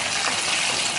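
Marinated chicken pieces fry in hot oil, giving a loud, dense, steady sizzle with no talking.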